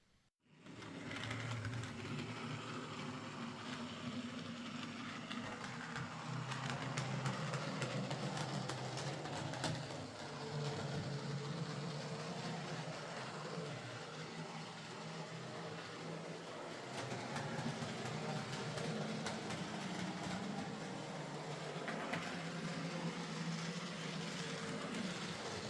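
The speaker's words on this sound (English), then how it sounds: "The locomotive now runs okay, but it's a bit clunky and noisy at times, as some split chassis models tend to be" A Hornby Super Detail Black 5 model locomotive with a split chassis runs steadily, giving a continuous clunky, noisy mechanical whir with a low hum that persists throughout.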